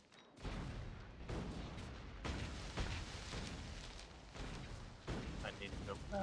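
Grenades exploding as they clear trees in Factorio: Space Age, a string of rumbling blasts that follow one another at uneven intervals, fairly faint, with a voice talking over them.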